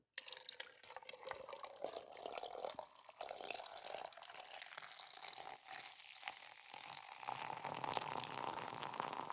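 Blue Hawaiian Monster energy drink poured into a glass, a close fizzing, trickling liquid stream with frothy crackle, uneven in strength and fairly quiet.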